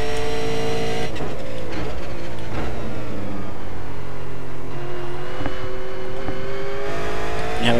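V8 race car engine around Donington in iRacing: a loud, continuous harmonic engine note close up, pitch dipping and climbing as revs change through corners, with no talk.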